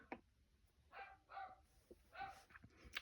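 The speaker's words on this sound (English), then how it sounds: "Neighborhood dog." A neighbourhood dog barks in several short bursts at a moderate distance, with quiet gaps between the barks.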